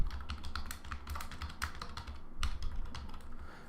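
Rapid, continuous clatter of a computer keyboard during an English vocabulary lesson, close and fairly loud, with keystrokes in uneven bursts and a few heavier taps.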